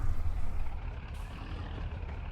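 A Zetor tractor works a field in Farming Simulator 22, its engine a steady, heavy low rumble with a broad mechanical roar that stays loud and continuous throughout.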